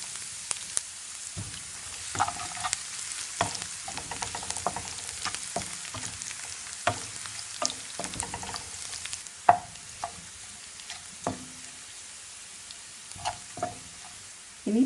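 Garlic frying in oil after ginger for a spicy Kerala-style crushed chilli lemon pickle, a steady close sizzle broken by scattered sharp clicks and taps of stirring, with no talk.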